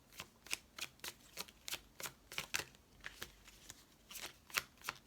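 Oracle cards shuffled by hand in quick, close, crisp bursts, a dozen or so riffling slaps in an uneven rhythm with no voice present.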